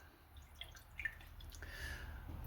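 A glass of water is poured or sipped, a faint trickle with a few light drips under a quiet room hush.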